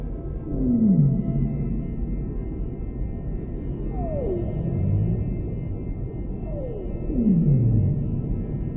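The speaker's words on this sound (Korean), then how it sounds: "이러한 소리로 푸른 고래들은 멀리 떨어져 있어도 서로 소통합니다." Blue whale calls echoing through the open ocean, several long descending moans sweeping downward one after another with pauses between, deep and resonant over a steady low underwater rumble.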